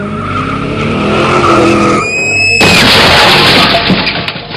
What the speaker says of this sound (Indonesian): Ia pun seketika tertabrak mobil yang melaju dengan cepat tersebut